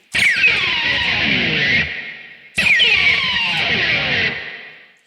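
A pick slide on an electric guitar's D string, the pick raked down the string while the other hand continues the slide: two loud, distorted descending scrapes in a row, each roughly two seconds long, up close and alone.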